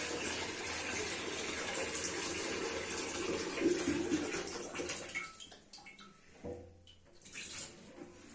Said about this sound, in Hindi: इसमें पानी डाल लेंगे दाल उबालने के लिए।